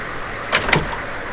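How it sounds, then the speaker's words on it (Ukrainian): A door is eased shut with care, giving two soft close knocks in quick succession against a quiet room, no talking. "Головне, що мені треба зробити, обережно зачинити двері."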